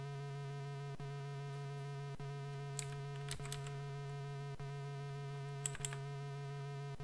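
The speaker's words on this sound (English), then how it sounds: "a Labian terror beast buzzes into the room like a tornado" A Labian terror beast in the Space Quest II video game gives off a steady electronic buzzing hum with periodic ticks, while sharp bright chirps break in twice, everything close and even in level.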